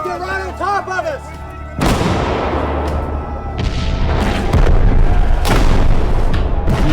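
A Michigan Union artillery battery in the American Civil War fires in quick succession. Deep booms roll out loud and close over sustained battle rumble, following a brief shouted voice at the start.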